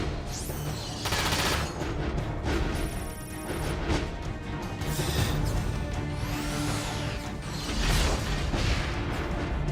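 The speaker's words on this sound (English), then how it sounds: "that's how the shotgun works" Shotgun fire in the mecha strategy game Front Mission 5, with a string of loud, sharp blasts and crashes mixed with whooshes and metallic impacts, one after another.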